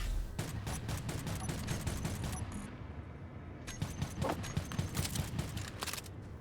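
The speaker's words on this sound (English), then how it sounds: "Stop shooting our base!" Gunfire rattles at a base in the Space Engineers survival game, rapid bursts of repeated shots in a dense stream, briefly thinning before another volley.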